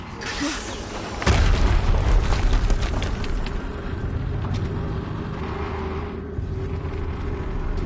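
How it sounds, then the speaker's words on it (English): A deep explosive boom bursts out in the Horizon Zero Dawn video game, followed by a sustained low rumble and mechanical battle noise that carries on for several seconds. "Another explosion."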